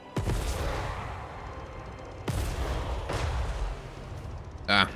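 Artillery and massed gunfire open up in Total War: Warhammer 3, two heavy booming volleys with rolling rumble and crackle between them, plus a short sharp burst near the end.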